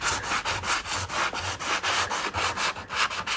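Hand sanding on a wooden fireplace, a steady back-and-forth rasp in even, repeated strokes, close and fairly loud with no voices.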